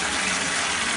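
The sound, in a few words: water gushing from a broken bathtub tap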